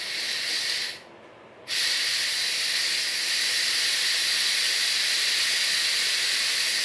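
Steam hisses loudly and steadily from a Crux pressure cooker as its pressure is released, cutting out for about half a second before returning as a continuous, even rush.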